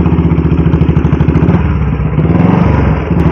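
An old Bullet motorcycle engine runs in gear with the clutch partly held, a loud close, rapid thumping beat with mechanical clatter that wavers slightly as if near stalling.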